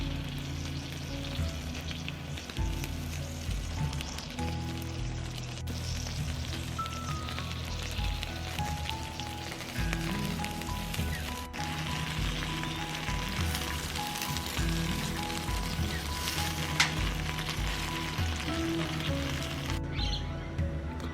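Barbecue ribs from a supermarket sizzle and spit steadily on a camping barbecue, a dense continuous frying crackle that stays up close and fairly loud with no talk over it.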